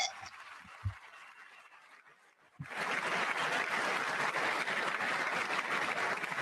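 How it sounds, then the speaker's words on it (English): Audience applause in the chamber at the 2026 State of the Union address, starting after a quiet pause with scattered sounds, then rising abruptly into sustained, dense clapping that fills the rest of the clip. "I wasn't sure if anybody even on this side was going to applaud for that."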